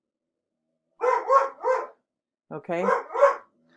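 Pet dogs barking indoors, two short bursts of three or so barks each, fairly close and loud, with a brief spoken word from a person in between.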